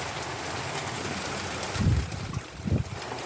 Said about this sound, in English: I'm going to wait for the rain to ease off